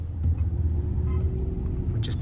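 Steady low rumble of heavy road traffic near a highway in Cavite City, Philippines, heard from inside a moving vehicle, with a voice briefly audible over it.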